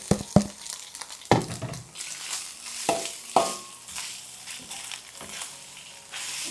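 Garlic and radish sizzle and fry in a pan, with steady crackling broken by scraping stirs and sharp clinks of a utensil against the pan.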